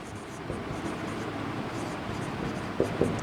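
Pen scratching on paper while working through accounts sums, faint continuous scribbling with a couple of small taps near the end, quiet and close.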